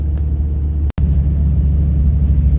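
Steady low rumble inside a car cruising on a highway through a construction zone, droning engine and road noise filling the cabin, broken by one brief dropout near the start.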